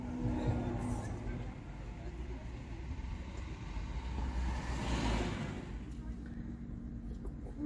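Car driving, heard from inside the cabin: a steady low road rumble and engine hum fill the whole stretch, with a swell of wind or passing noise midway and no clear talk over it.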